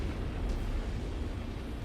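A mech's reactor blowing up in MechWarrior 5, a steady deep rumbling roar that fills the whole moment with heavy low-end energy and no clear individual bursts.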